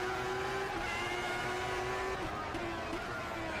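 A 1994 Formula 1 race car engine in the Automobilista 2 sim at Suzuka, held at a steady high whine that drops slightly as the car slows, on the opening lap. A low rumble sits beneath it.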